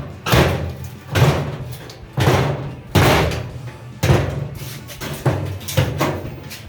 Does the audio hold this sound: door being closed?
yes